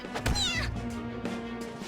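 A cat in the game Persona 5 Royal gives a rising, drawn-out meow near the start, followed by softer cat cries under a low steady hum.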